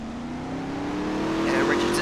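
A race car in a NASCAR-style racing video game leaves pit road, its engine droning steadily and climbing slowly in pitch as it accelerates, loud and continuous, with a commentator talking over it.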